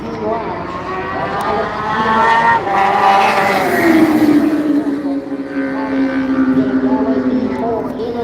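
Superbike motorcycles race at the Canadian Tire Superbike Doubleheader Grand Prix. Loud, high engine whines rise and fall in pitch as the bikes sweep past, with a commentator talking over them.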